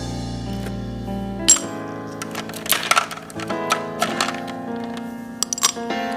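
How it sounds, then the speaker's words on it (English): Two ice cubes drop into a hurricane glass with a sharp crack and clink, followed by a series of smaller glassy knocks and rattles as they settle, close and clear. "I will drop in 2 cubes of ice into the glass."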